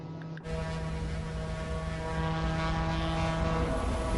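A de Havilland Twin Otter Dash 6 turboprop in the MSFS2024 flight game drones with a steady, loud propeller hum full of sustained tones, holding constant in the cabin, with no talking.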